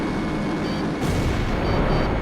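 Explosions destroying an enemy facility in the combat flight game Ace Combat 5, a continuous loud roar of booms and rumbling blasts with a heavier burst about a second in.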